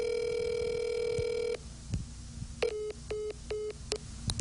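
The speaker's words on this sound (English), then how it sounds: "We've attempted to call that number and it was disconnected" A call goes through to a disconnected phone number for an apartment complex's property owners. A long steady electronic tone plays, then a run of short, evenly spaced beeps, clear and alone with no voices.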